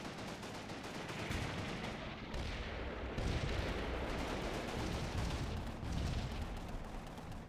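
Video game units trade fire in a battle with tanks, a dense, continuous crackle of gunfire and artillery bursts at moderate volume, with no voice over it.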